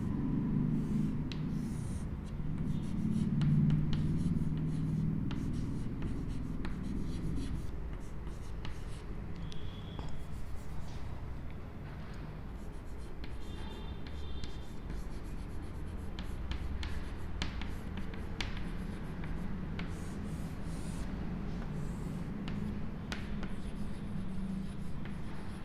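A pen or marker scratches steadily across a board or paper as a diagram is drawn during a lecture, with dense soft strokes and taps over low room hum and a brief stretch of faint voice early on.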